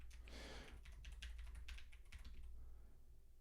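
Rapid clicking of computer keyboard keys in a short burst of typing, close and fairly quiet over a low steady hum, with no one talking.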